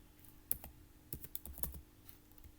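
Quick bursts of clicking keys on a computer keyboard, a few scattered taps followed by a short rapid flurry, close and fairly quiet with no talk.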